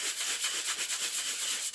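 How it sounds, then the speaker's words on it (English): A 220 grit sanding block rubbed over hardened UV resin in quick, even back-and-forth strokes, giving a steady, close, scratchy rasp. "So this is just a 220 grit block that I have. Give it a little bit of a sand."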